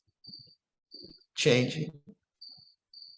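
Crickets chirp in short, evenly spaced high trills behind a man's calm, quiet speech at a meditation retreat.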